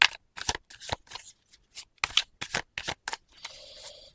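Playing cards shuffled and handled up close during a card reading, a series of crisp riffling bursts and snaps in irregular rhythm, ending with a softer continuous rustle.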